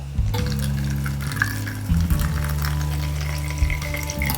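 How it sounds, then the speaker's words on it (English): Hot water pours steadily into a measuring cup, a continuous splashing hiss with a low, shifting gurgle as the level rises, close and fairly loud with no voices. "So I'm going to fill it to that line with hot water."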